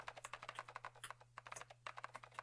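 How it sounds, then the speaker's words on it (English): Rapid computer keyboard typing, a fast run of crisp close clicks that nearly blur together, with a brief pause partway through, over a low steady electrical hum. "The click-clack of keys were running together like machine gun fire."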